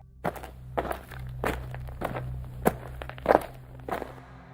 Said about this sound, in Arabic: شي خطوات كيتمشاو في الكوري، نفس الساعه ونفس الصوت